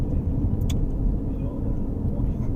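Steady low road rumble and engine drone from the interior of a moving car at night, continuous and fairly loud with no voices.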